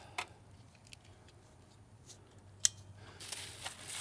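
Packaging being cut away during a bike build: a few quiet, separate snips and clicks of a blade over a soft background hiss, close by with no talk, and a brief crinkly rustle near the end.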